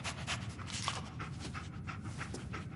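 Dogmeat, a dog in the video game Fallout 4, pants rapidly and close up in a continuous breathy rhythm, with no talking over it.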